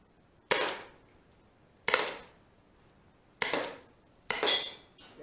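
A Byrna SD launcher fired at a target in a garage, with four sharp cracking shots at irregular intervals, each trailing a brief rattle, close and loud against a quiet background.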